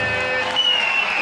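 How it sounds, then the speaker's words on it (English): A stadium crowd at a Bowling Green Falcons college football game against Toledo applauds and cheers a first down, a brief steady wash of clapping and crowd noise. "Bowling Green crowd applauded the initial first down of the night for the Falcons"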